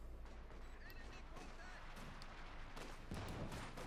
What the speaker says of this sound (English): we're getting caught here by the heavy machine gun point blank